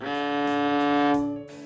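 A cello's open D string bowed on a single sustained pitch, rich in harmonics, with a couple of faint bow changes before it fades near the end.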